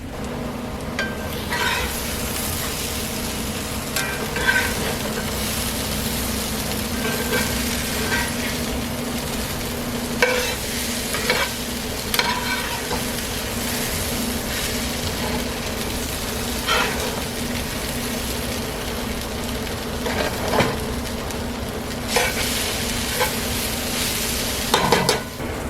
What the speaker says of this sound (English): right now I did stir it just then after the 3-minute mark